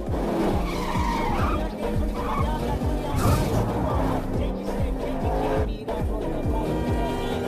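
A car screeches through a chase in an action movie scene, tires squealing and skidding continuously over a loud, roaring engine, close and dense throughout with no pauses.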